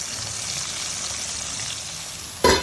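Tomatoes sizzle and fry steadily in hot mustard oil in a pan for a tomato chutney, with a continuous close crackle and a sudden louder clatter and hiss at the end as the pan is tossed.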